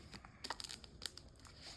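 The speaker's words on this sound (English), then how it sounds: "let's just see a couple shuffles" Trading cards in dragon sleeves being shuffled by hand, a faint, close, quick patter of crinkly plastic flicks and soft slaps in a brief irregular burst.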